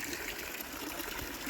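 Water pours from a hose into a lined koi garden pond, a continuous close, even gushing hiss with no voices.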